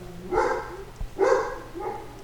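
A pet dog barks three times at close range, loud sharp woofs spaced roughly half a second apart, heard indoors while a video game plays quietly in the background.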